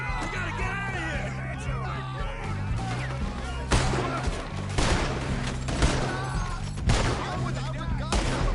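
Gunfire rattles through a Red Dead Redemption 2 shootout, with dense overlapping volleys and several louder single cracks at irregular intervals over a game soundtrack, and raised voices shouting in between.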